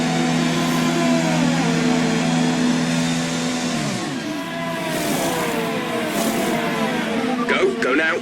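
F1 car in an F1 2020 pit stop, a loud, close engine hum that drops and fluctuates as the car slows into the box, with a whirr of pit activity near the end.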